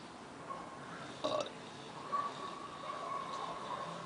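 Someone burps a few times on a balcony: short, moderately close belches over a faint background hum, with people talking around them.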